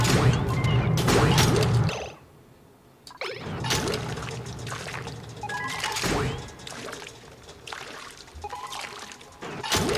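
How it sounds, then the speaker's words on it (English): Oil pours and splashes into a petrol boiler in the Oxygen Not Included video game, loud liquid gushes and clattering impacts in bursts, broken by a brief quiet gap. "Like we do a little flip and like let the oil drip in."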